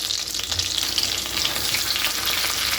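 Large chicken fried steak frying in a pan, a steady loud sizzle and crackle of hot oil close up, with no talking.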